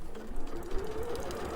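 Sewing machine stitching around the main image on a quilt with a steady mechanical whir and rapid needle chatter, close and continuous, with no talk.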